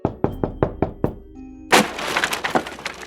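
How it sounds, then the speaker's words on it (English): Five or six quick, sharp knocks rap on a door in a steady rhythm. A brief pause follows, then a loud crash and a scatter of clattering impacts. "Let's knock."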